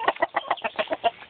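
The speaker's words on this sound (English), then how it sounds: "That's the rooster right there" A backyard rooster in a homemade chicken coop gives a quick run of close, rhythmic clucks, about eight short bursts in just over a second, with no talking.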